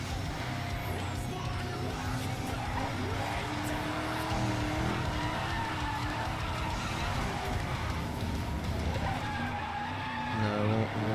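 Screeching tyres and a sliding car drifting in a racing video game, a continuous loud skid over engine drone lasting throughout.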